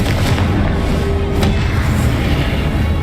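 A Confringo fire spell exploding in the video game Hogwarts Legacy, a loud, dense burst of booming rumble that fills the whole moment, with a sharp crack partway through.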